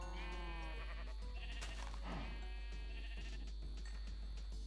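A baby sheep in Minecraft gives a few short, high, wavering bleats alongside game sound effects, with no speech over them.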